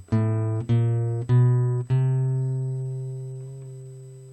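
Open A string on a guitar, plucked four times in an even rhythm, each note ringing clear and close before the last one sustains and slowly decays.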